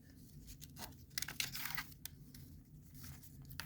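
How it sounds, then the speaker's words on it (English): Washi tape peeled and torn by hand during paper crafting in a journal, giving a run of close, crisp ripping and crinkling bursts with brief pauses between them. "and you use some washi tape"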